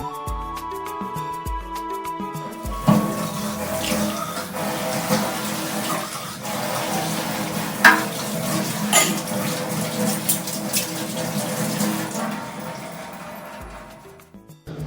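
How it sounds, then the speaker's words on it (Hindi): Dishes are washed by hand under running water, the tap hissing steadily while plates, pots and utensils clink and clatter irregularly, close by, with no talk. "बर्तनों को खाली करके धो के रख देते हैं"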